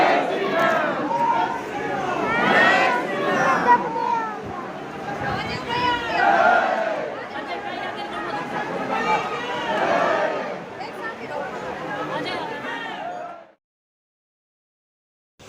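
Dense crowd of pilgrims waiting in a long queue at the Ayodhya temple, a continuous babble of many overlapping voices and shouts, close and loud, cutting off abruptly near the end.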